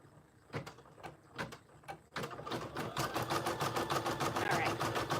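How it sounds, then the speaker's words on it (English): An embroidery machine sews a satin stitch across the top of an appliqué on an in-the-hoop zippered bag, starting with a few sharp clicks before settling into a steady, rapid mechanical whir that stays close and continuous to the end. "I'm going to do the satin stitch at the top of the applique and hit start"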